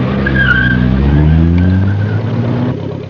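Audi rally car on a stage of the 1974 Lebanon-Syria Rally: a loud, near engine drone with rising revs and a whining tone, holding steady and then easing slightly at the end.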